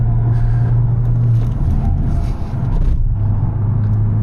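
A Skoda Octavia RS lapping a race track, heard from inside the cabin as a loud, steady engine drone with road rumble that swells and eases slightly with throttle changes.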